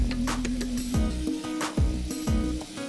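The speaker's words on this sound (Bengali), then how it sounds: "এবার মশলাটা বনে নিচ্ছে" Spice mix fries in a pan with a close, steady sizzle, broken by several sharp scraping stirs and clinks against the pan.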